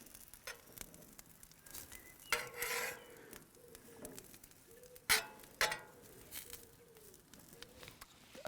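Asparagus spears sizzling on a barbecue grill, with quiet steady frying hiss and a few sharp scrapes and clatters as they are turned with tongs.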